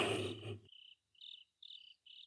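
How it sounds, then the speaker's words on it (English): Crickets chirp inside a quiet tent in the game Utawarerumono: Mask of Truth, giving short bright trills in repeated bursts with brief gaps, close and clear after a louder opening wash of ambient noise. "other than these crickets."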